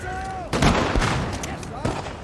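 Musket volleys from infantry in the Napoleon: Total War battle on the Siberian Plateau, heard as a few loud crackling bursts of massed gunfire over a rumbling battlefield, with a voice talking faintly underneath.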